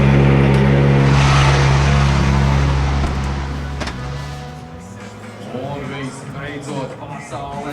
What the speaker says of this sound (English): Final car pulling into the grid for the last race of Q1